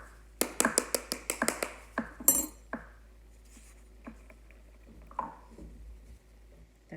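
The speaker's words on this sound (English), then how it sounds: "I just want to knock it along the edge where the two pieces come together" A bath bomb mold is knocked along its seam with a rapid run of about eight crisp, close taps, then a sharper knock and a few softer, scattered taps in a quiet room.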